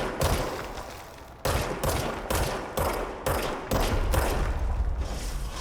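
Gunfire in the video game Control comes in rapid bursts, several sharp volleys separated by brief gaps, loud and close with no talk over it.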